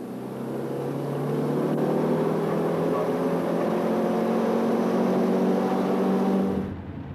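A motorbike rides along the road with a Dorset police camera bike following, giving a steady, loud engine drone with sustained harmonic tones that holds for several seconds, then cuts off abruptly near the end.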